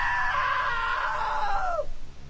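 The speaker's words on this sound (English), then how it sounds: "Now that was a great scream." One shrill scream in the story game What Remains of Edith Finch, held for nearly two seconds and bending downward at the end before it breaks off, loud and close against a low ambient drone.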